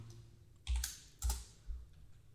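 Three distinct keystrokes on a computer keyboard, quiet and close, spaced roughly half a second apart with a soft clack on each press.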